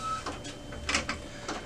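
An Epson WorkForce Pro WF-4734 printer's ink carriage whirs and clicks as it moves into position, in short mechanical bursts at close range with no talking.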